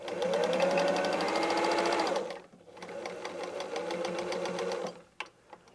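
A sewing machine runs a straight line of stitching through layered patchwork fabric, its rapid steady needle rattle continuing for several seconds, pausing briefly and resuming before stopping with a couple of clicks.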